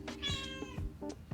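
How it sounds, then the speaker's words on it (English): A cat meows several times up close, a few short, bright, tonal calls in quick succession with brief pauses between them. "The cat says so also."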